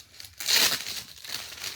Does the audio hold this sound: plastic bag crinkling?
yes